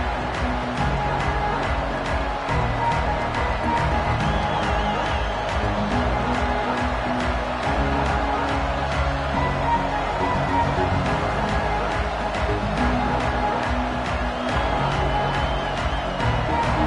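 A football stadium crowd at a Georgia game keeps up a steady, dense roar of cheering and noise throughout, loud and continuous, with no clear commentary standing out above it.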